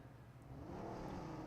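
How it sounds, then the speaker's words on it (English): A car engine revs in the battle royale game PUBG Mobile, a steady motor drone that rises and swells in loudness, with no voices over it. "He just revs the engine and just ditches it"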